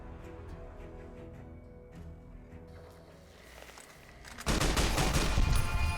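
Gunfire in Fallout New Vegas: a soft stretch of faint, scattered shots gives way to a sudden loud, dense burst of rapid firing in the final seconds.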